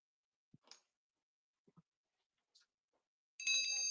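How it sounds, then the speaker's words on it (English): Small decorative bells from a craft and home decor collection give a few faint, sparse clinks, then a bright, sustained ringing burst closes out the moment. "Those bells are cool."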